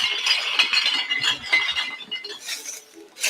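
Glass bottles crushed for recycling into sand, a busy run of bright clinks and rattling shards tumbling together, steady and moderately loud with no voices.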